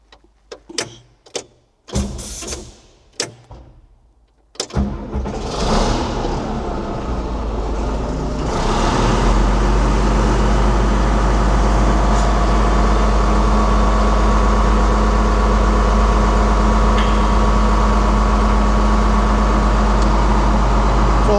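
A tracked machine's engine cranks in several short bursts, catches, and settles into a loud, steady, close idle with a deep drone.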